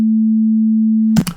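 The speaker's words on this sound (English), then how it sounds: "This is one here. So this is sine wave at 220 hertz." A synthesizer sine wave at 220 hertz, the musical note A2, holds as one steady, loud, pure tone for over a second before cutting off with a brief clatter.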